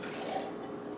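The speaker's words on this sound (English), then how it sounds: "I'm going to start again by putting in approximately 5 ounces of water" About five ounces of water pours into a vessel for an Earl Grey London Fog latte, a brief, soft, close splashing stream that fades slightly toward the end.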